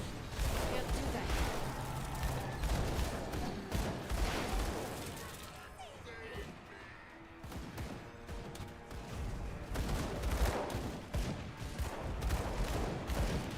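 Gunfire and combat bursts in the action RPG Grim Dawn, loud and dense throughout, with a brief lull midway before volleys of shots resume alongside battle clatter.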